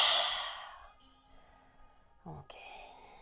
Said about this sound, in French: Préparez-vous pour la respiration du lion.